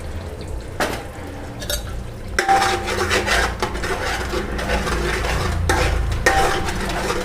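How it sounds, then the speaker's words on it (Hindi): Spices frying in a pan over medium heat while a spoon stirs them, a soft scraping and rustling that swells into steady sizzling, with a few sharper knocks of utensil against pan. "मीडियम आंच पर हम मसाले को तल रहे हैं"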